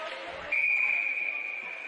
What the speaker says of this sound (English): And we'll have a whistle.